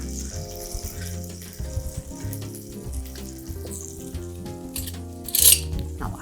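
Butter fries in a pan with a faint, steady sizzle under clinking and stirring sounds, and one brief louder hiss near the end; background music plays low throughout.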